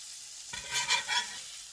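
Poor man's steak patties sizzle in a pan, a steady hiss that swells in a few bursts as they are flipped and scraped, close and moderately loud.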